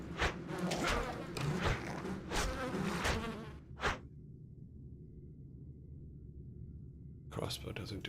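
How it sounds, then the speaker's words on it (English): A locust swarm in a video game makes a low, even buzzing drone, at first under loud bursts of voices and then almost alone and fairly faint, with brief noisy bursts near the end. "And yes, I know they're locusts."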